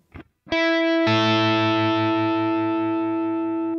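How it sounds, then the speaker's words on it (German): An electric guitar with distortion and effects plays a whole-tone bend at the seventh fret on the G string. A short plucked note comes first, then a loud sustained bent note rings out and holds steadily until it slowly fades. "Dann wieder ein Bending am siebten Bund G-Seite, wieder ein Ganztonband."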